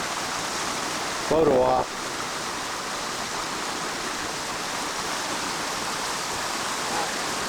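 Stream flowing at a state park: steady broadband rush of running water throughout, with a brief spoken remark early on.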